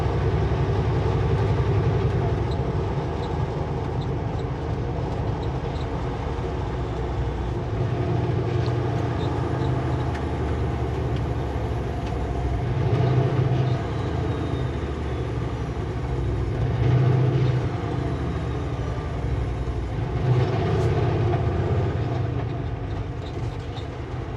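Canadian Pacific locomotives rumble past in a steady, loud, continuous drone with rail noise and occasional squeals, running near Kamloops toward Barrière.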